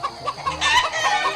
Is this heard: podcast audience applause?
no